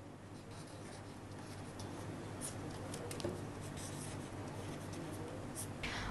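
Pen scratching steadily across paper while a mantra is written out by hand, a faint, continuous scribbling texture with small strokes, close and quiet with no talk.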